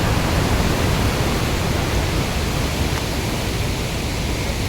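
Broad, steady rushing of surging river waves, loud and constant throughout with no breaks and no voices.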